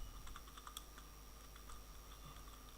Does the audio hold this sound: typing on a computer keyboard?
yes